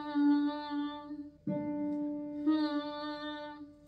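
A violin's D string, bowed during tuning, sounds as sustained steady tones: one long note, a brief break with a pluck-like attack, then the note resumes, clear and close with no talking.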